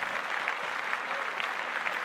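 Steady, dense clapping from several pairs of hands, continuous and fairly loud throughout with no voices.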